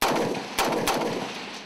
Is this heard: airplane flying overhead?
no